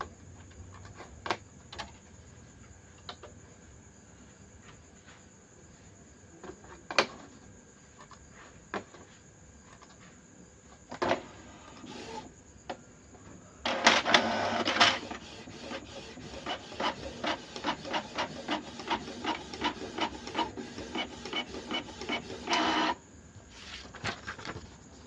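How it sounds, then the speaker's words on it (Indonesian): A Canon TS207 inkjet printer fitted with an ink tank system printing a test page: scattered clicks and mechanical whirs at first, then a long stretch of rapid rhythmic rasping as the print head sweeps back and forth, close and clear. "Kita tes print."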